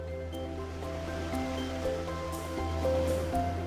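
Waves wash onto a seaweed-strewn coast in late March, a steady low surge with soft breaking swells, moderately loud with a hum beneath.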